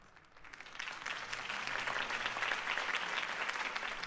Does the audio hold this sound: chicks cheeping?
no